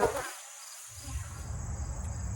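Angry bees buzz around a farm beekeeper dusting the hive with powdered sugar, a steady close insect drone with a brief lull before the buzzing swells again.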